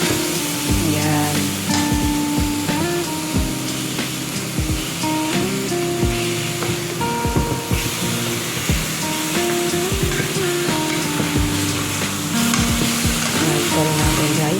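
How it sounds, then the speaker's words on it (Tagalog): Chicken on a grill sizzling and hissing steadily just after being flipped, a dense continuous frying crackle with scattered louder pops and scrapes, close and fairly loud, no talk. "baliktarin muna natin ang ating chicken grill"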